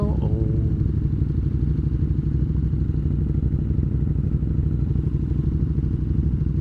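A motorcycle engine runs steadily close up, a loud, even clattering thrum with a brief rising rev at the very start, with no talk over it.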